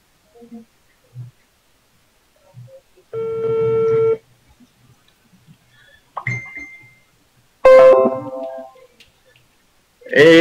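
A phone call goes through with short dial beeps, then steady ringback tones and a busy-style tone in separate bursts against near silence, fairly close and clear.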